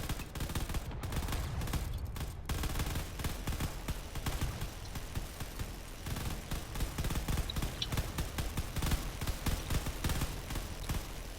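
Video game weapons keep up dense, rapid gunfire against incoming fighters in a space battle, a loud, relentless stream of overlapping shots with no pauses.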